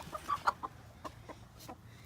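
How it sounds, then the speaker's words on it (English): Chickens of standard egg-laying breeds clucking softly outdoors, a few short clucks close together near the start and then scattered fainter calls. "There's another chicken over there."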